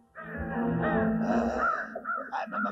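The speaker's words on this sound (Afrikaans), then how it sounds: "Daai voels is doodgewone kraaie." Ordinary crows cawing near a hill, several harsh calls overlapping and repeating steadily, loud and close, with no talk.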